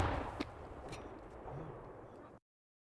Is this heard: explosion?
yes